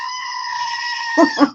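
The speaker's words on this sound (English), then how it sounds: "I haven't seen him in a while, my screaming goat." A goat lets out a long, loud, human-like scream that holds steady, then breaks into two short bleats at the end, close and alone with no talking.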